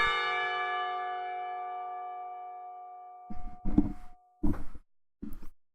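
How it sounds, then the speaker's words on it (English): Clock tower bell in the Katawa Shoujo visual novel, a single deep resonant strike ringing out and slowly decaying, followed by several dull thumping knocks. "The clock tower bell rings, signaling the end of the period."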